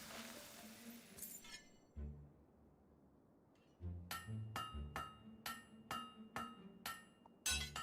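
Blacksmith's hammer ringing on a blade at the anvil in the Fable 3 forge, a burst of about eight sharp metallic clangs in quick rhythm after a quieter stretch, loud and close.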